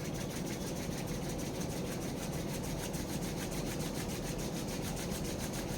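A wooden pencil rolled hard between pressed palms, a continuous dense rasping rub with a fast, even back-and-forth pulse, close and steady without any talk.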